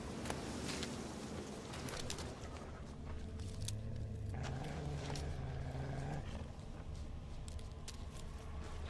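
Birds call through a steady outdoor ambience in The Witcher 3, scattered cries over a continuous low wild-animal rumble and tonal background, with no one speaking.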